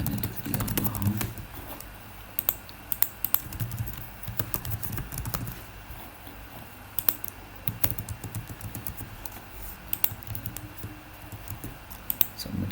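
Irregular keyboard typing during a Hindi coding walkthrough of a React JS Redux Form, heard as scattered, fairly close clicks over steady low background hum, in short bursts with pauses between them.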